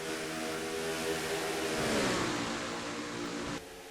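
Race car engines from a NASCAR-style sim racing league game rev steadily and loud, with one engine note rising then easing as cars jostle for position; it cuts off sharply near the end.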